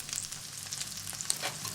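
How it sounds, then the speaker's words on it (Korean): Food stir-fried in oil while ribs are grilled, a quiet crackling sizzle with light spattering pops, close and continuous over a short stretch. "갈비를 먹음직스럽게 구워내고 음식을 기름에 볶고 지지느라 분주합니다."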